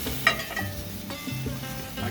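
Blackened fish is flipped over in a hot pan, a steady crackling sizzle of frying spices with a sharp clink of the utensil early on and soft scraping as it turns.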